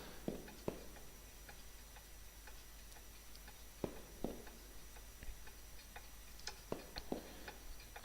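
A clock in the video game Koudelka ticks at a steady, unhurried pace, with crisp, moderately close ticks over a quiet, hissy ambient background and no voices.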